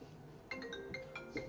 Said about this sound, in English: Please try to put your phones on silent.